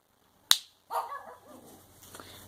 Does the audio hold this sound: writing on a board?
no